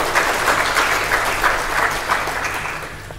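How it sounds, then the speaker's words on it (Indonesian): Sustained applause fills a hall as the audience at a university public lecture by a constitutional court judge claps steadily for several seconds, dense and fairly loud with no talk over it. "Mari sekali lagi kita berikan aplaus kepada Yang Mulia"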